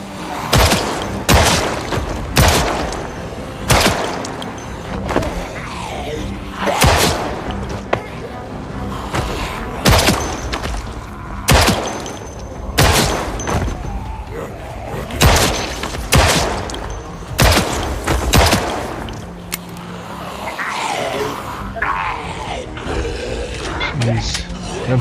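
Gunshots go off in Project Zomboid, sharp loud bursts repeating every second or two across the stretch, with a person talking underneath between the shots.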